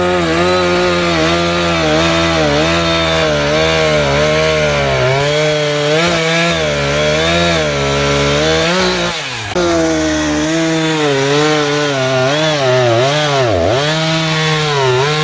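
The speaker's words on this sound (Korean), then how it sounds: "이 엔진 톱 소리 때문에 조금 시끄러울 텐데요" An engine chainsaw cuts firewood logs, running loud and close with a steady droning whine that dips and rises as the chain bites the wood, with a short break near the middle.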